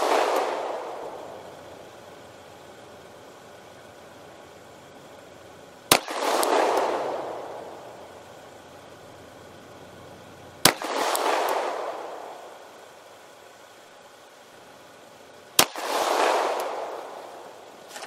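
Three single gunshots from a Glock 48 9mm pistol at an outdoor range, each a sharp crack followed by a long rolling echo, spaced about five seconds apart with quiet between.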